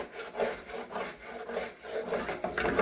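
A utensil scrapes crumbs off the bottom of a gravy pan in repeated rough, rasping back-and-forth strokes, close and fairly loud.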